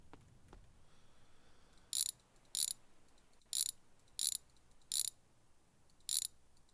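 Six sharp ratcheting bursts from a wrench loosening the rear tire of a pickup truck in the garage game My Garage, spaced roughly half a second to a second apart over a quiet background.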